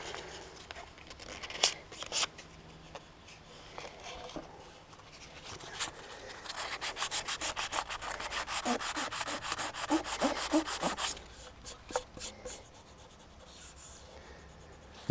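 Sandpaper rubbing back and forth over cured resin on a guitar body, close and steady, with short scratchy strokes early and then a long run of fast, rhythmic passes before easing back to intermittent rubbing.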